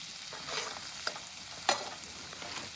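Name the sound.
spices sizzling in hot oil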